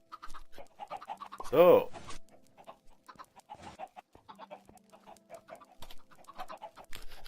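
Minecraft chickens cluck in an underground chicken farm, scattered soft clucks spread across the stretch with one louder squawk near the start, and a brief spoken word at the opening.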